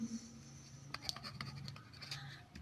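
Chalk or marker scratching across a board while an ODE solution is written out, a quiet run of short strokes and taps over faint room hum.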